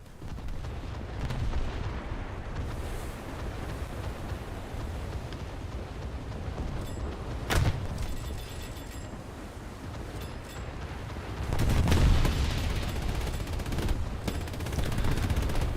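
Naval guns fire repeatedly in a low-tier coastal boat battle game, a dense run of booming reports with sharper cracks breaking out near the middle and end over constant engine and water rumble.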